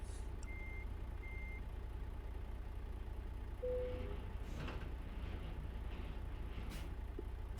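A truck in a trucking video game backs up to attach a trailer: a few evenly spaced reversing beeps over a steady low engine drone, with a soft hiss of air partway through.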